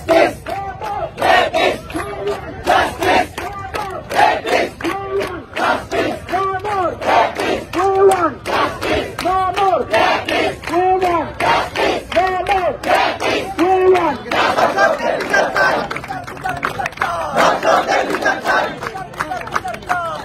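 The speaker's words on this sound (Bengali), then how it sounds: "বিক্ষোভ সমাবেশে শিক্ষার্থীরা নানা স্লোগান দেন" Protesting university students chant slogans in unison, a large crowd repeating a loud rhythmic call-and-response cadence that continues steadily throughout.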